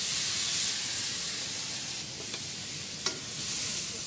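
Chicken with peppercorns and Shaoxing rice wine stir-frying in a wok, a loud steady sizzle and hiss with a couple of brief scraping clicks from constant stirring, close and continuous with no talk.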